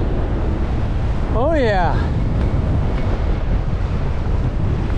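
Heavy wind and surging waves on the open North Atlantic, heard from a small sailboat making a solo passage from Ireland to Iceland; a steady, loud roar of wind buffeting the microphone with wash of sea throughout, and a brief spoken remark early on.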